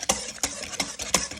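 A spoon stirs sugar into banana bread batter in a bowl with four evenly spaced, close, wet scraping strokes over a soft background hum.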